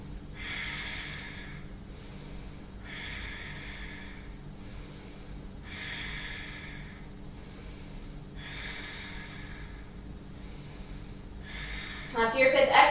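Slow, rhythmic breathing held through an Ashtanga yoga twist, about five airy inhale-exhale cycles, fairly close and steady over low room hum, ending in a brief louder rustle.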